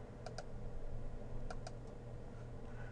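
Computer keyboard keys are tapped in a few quick pairs of light clicks, faint and close, over a low steady room hum with no talking.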